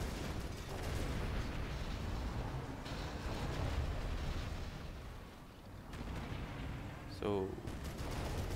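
Dense, continuous battlefield gunfire and explosions from units in the real-time strategy game Rise of the Reds, loud and sustained throughout.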